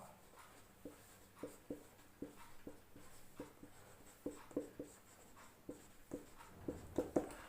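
Chalk or marker strokes on a board during a chemistry lesson, a steady run of short scratchy taps and scrapes, close and fairly quiet, with no talk.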